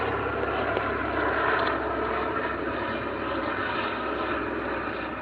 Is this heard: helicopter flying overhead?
yes